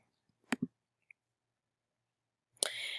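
A computer mouse clicks on a link in a PDF document, a couple of faint, sharp clicks close together, then quiet before a brief louder noise at the end.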